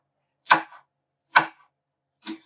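A knife slices through green pepper on a cutting board in three crisp, evenly spaced chops about a second apart, close and clear with no talking.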